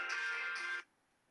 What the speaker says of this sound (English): I knew this phone was going to ring